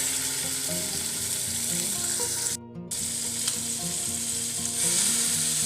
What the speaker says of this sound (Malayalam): അപ്പോൾ എന്നിട്ട് അത് നമുക്ക് ഇങ്ങോട്ട് ഫ്രൈ ചെയ്യാം.